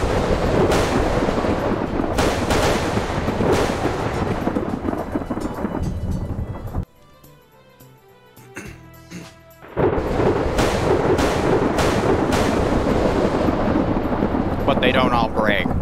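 Lightning bolts strike repeatedly in a video game, loud crackling thunder bursts with a rumbling, rain-like wash, broken by a few seconds of quieter tones before the barrage resumes, with a voice talking underneath.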